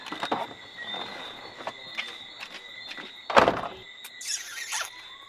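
A door creaks and squeals on its hinges, then shuts with a sharp slam followed by a further high squeal, close and fairly quiet, with no talking.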